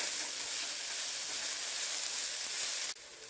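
Minced garlic and onions sizzle in a pan, a steady, dense hiss that holds evenly before dropping off suddenly near the end.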